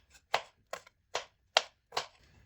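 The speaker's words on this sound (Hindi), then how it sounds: "अब ग्रीन चिली को भी हम इस तरह काट लेंगे।" A knife chops green chilies on a board in five crisp, evenly spaced strokes, close and distinct against a quiet background.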